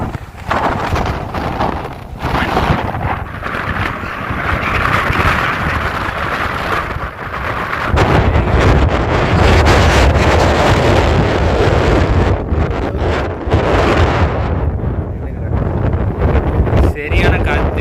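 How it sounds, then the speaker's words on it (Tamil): Strong wind buffeting a microphone on a hilltop in Stavropol, loud and continuous roaring gusts that swell midway, with a voice speaking underneath. "சரியான காத்து, நிற்க கூட முடியல"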